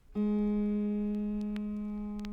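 One autoharp string, the lower F sharp, is plucked once, a clear sustained tone ringing steadily with a slow fade, with a few faint clicks over it.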